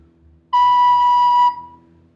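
A single clear, pure recorder note B held for about a second, then released, with a quiet room hum around it.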